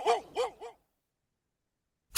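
Three quick close barks from Bouncer, a pet dog, in a short rhythmic burst, followed by silence and a brief sharp noise at the end.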